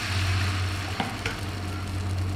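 Batter fries in a hot pan during a cooking competition, a steady loud sizzle with a low hum beneath and a couple of light utensil clicks.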